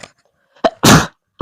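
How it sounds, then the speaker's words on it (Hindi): A sudden sneeze during a chemistry lesson: a short sharp burst, a brief pause, then a loud broad blast, ending with a quick trailing breath or second burst. It sounds close and strong. "छींक आने वाली है"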